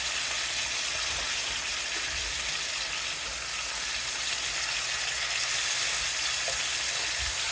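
Pork chops sear in a hot pan with a steady, close sizzle and crackle that runs unbroken throughout, with no voices over it.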